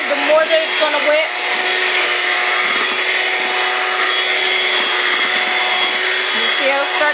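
A mixture being whipped gives a loud, steady mechanical whir that drones on evenly with a slight buzzing edge and no pauses.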